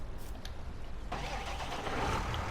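A tractor engine cranks over and catches in Farming Simulator, a low rumble that swells into a steady, fuller idle about halfway through, close and without talk.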